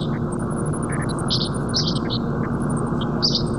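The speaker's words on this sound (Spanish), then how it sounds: "Al menos los pájaros trinan." Birds chirp and tweet at dawn in Gaza, scattered short calls repeating through the clip over a constant broad noise.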